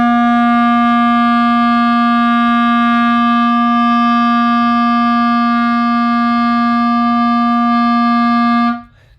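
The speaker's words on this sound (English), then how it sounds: "The note C, you can play along with me." A clarinet holds a single sustained C note, steady and pure for about nine seconds before cutting off abruptly.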